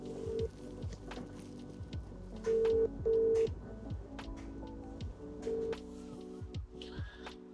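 Faint telephone dialing tones beep in short intermittent bursts as a call is placed to BMW service, with quiet handling clicks between the tones.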